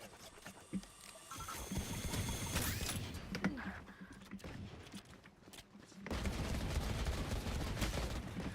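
Gunfire in Valorant, with scattered shots and bursts among busy game effects, then a dense sustained stretch near the end, mid-distance and moderately loud.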